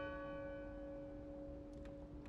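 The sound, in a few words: bell ringing in the video game Draugen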